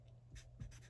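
Pen or pencil scratching across paper while budget expenses are jotted down, a few brief soft strokes, quiet and close with a faint hum behind.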